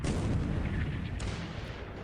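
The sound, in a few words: warship main gun firing in a naval video game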